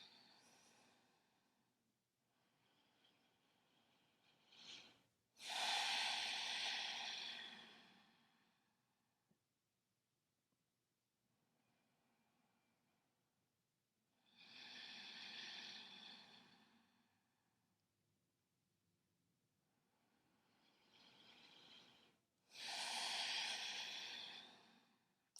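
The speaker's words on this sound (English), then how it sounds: "Take a few deep breaths here." Slow, deep breaths during a yoga practice, with long airy inhales and exhales swelling and fading several times, close and quiet, separated by stretches of near silence.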